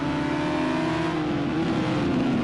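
Race car engines drone loudly in Project CARS 2 during a GT sprint race at the Dubai circuit, a sustained mid-pitched roar with a slight rising whine.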